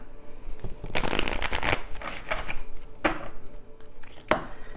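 A deck of cards is shuffled close by in several riffling bursts, each a rapid fluttering rattle followed by sharp taps and pauses between.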